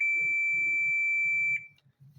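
A digital multimeter sounds a steady, clear high-pitched continuity beep for about a second and a half while checking the coil of a Drean Next Eco Inverter washing machine, then cuts off, leaving low background murmur.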